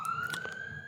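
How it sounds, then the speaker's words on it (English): A police siren wails in the distance, one steady rising tone that sits faintly under the room sound. It continues without a break, and no one speaks. "Fucking cops. Siren's been going like crazy."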